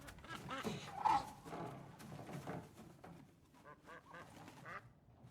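A goose honking and quacking repeatedly, set among the busy film soundtrack of All Quiet on the Western Front, moderately close and mixed with other background activity.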